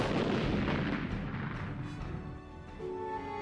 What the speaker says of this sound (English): Teams of troops operated an assembly line of ammunition, sending an endless succession of shells airborne.